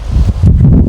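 Gusty strong wind thumps and rumbles against the microphone while leaves rustle nearby, loud and uneven, with no voices.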